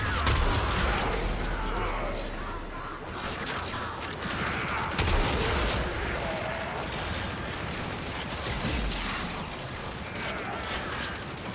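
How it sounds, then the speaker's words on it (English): Heavy shotgun blasts in the sci-fi action game Warframe, loud and close in a dense, continuous barrage of gunfire and mechanical clatter, with repeated sharp booms over a constant battle roar and no talking. "This is the get off my lawn shotgun."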